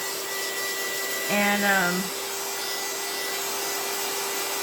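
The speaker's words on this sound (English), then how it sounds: "I probably could use a better heat gun" A cheap heat gun blows steadily while drying coffee-dyed paper, a constant loud whirring hiss with a steady tone, and a voice briefly speaks over it.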